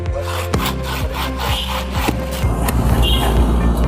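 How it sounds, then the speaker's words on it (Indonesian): A hand saw cuts decorative motifs into tree fern wood in steady, rasping back-and-forth strokes, close and loud, with a regular rhythm of about two strokes per second. "harus menggunakan gergaji ya Bu ya"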